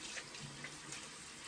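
Tap water running steadily into a sink for rinsing skin, a continuous close hiss and splash at low level, alone without talk.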